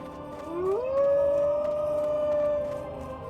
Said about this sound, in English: The constant wolf howling is annoying.